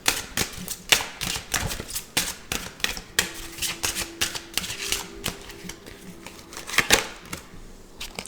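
Tarot cards rapidly click and snap as they are shuffled and drawn from a deck. The sharp, irregular taps come close and distinct, with a few brief quiet gaps between them.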